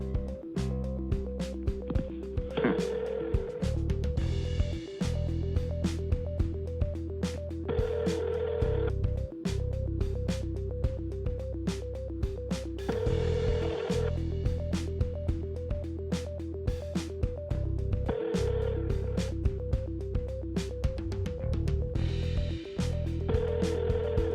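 An unanswered telephone keeps ringing in a steady repeating electronic pattern, with regular pulses and brief clicks running through the whole stretch, and no voices over it.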